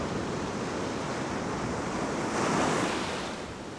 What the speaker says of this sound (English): There's quite a strong shore dump here.